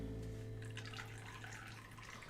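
A cocktail being poured into a glass, a steady close liquid stream running continuously for the whole moment with a faint watery splash over it.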